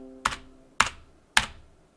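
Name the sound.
typing on Tecware Phantom 104 mechanical keyboard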